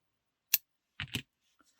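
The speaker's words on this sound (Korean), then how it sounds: "이 자투리 실은 너무 길어서 바깥으로 삐져나오지 않게만 잘라 주시면 돼요" Scissors snip through a crochet yarn tail on a dish scrubby, a sharp single snip followed by a double cut close by, then a faint tap, with no talk.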